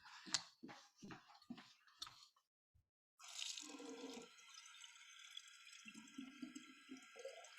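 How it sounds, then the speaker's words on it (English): Water running from a tap into a bottle, a steady gushing stream that starts after a few knocks and clicks and a short pause, then continues at a moderate level with a faint pitch shift as it fills. "I need to fill up this bottle of water"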